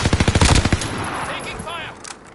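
Rapid bursts of automatic gunfire in a video game shooter, a fast run of sharp loud shots that then fades into the game's ambient noise, with a voice speaking briefly during the firing.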